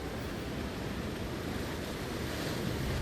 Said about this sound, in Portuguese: à medida que voam sobre a proa do navio, fica claro quão grande é a massa de água que atingiu o navio